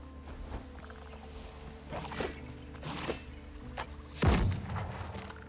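Gunfire in the video game Windrose, aimed at a creature's legs: several sharp, loud reports spaced irregularly over a few seconds, the heaviest boom near the end, over a low ambient game rumble.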